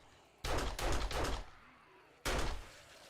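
Short bursts of gunfire with cheaper ammunition in the zombie survival game 7 Days to Die: two quick shots close together, a pause, then a third sharp report, loud and close against a quiet background.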